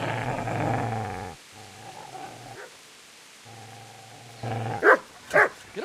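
A dog in the medieval video game Kingdom Come: Deliverance growls in low rumbling bursts with short pauses, then lets out two sharp, loud barks near the end.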